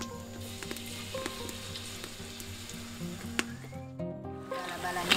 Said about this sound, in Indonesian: sekarang kita mau goreng ini bakwannya